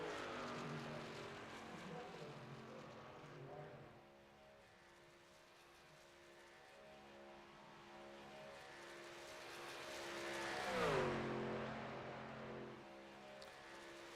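A race truck engine in the iRacing video game, a steady droning whine that fades and then swells as the truck passes close, heard alone without talk.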